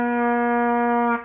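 A baritone horn holds one steady B flat, a full, mellow brass tone that sounds alone for just over a second before it cuts off.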